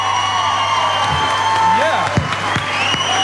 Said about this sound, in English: would you please put your hands together?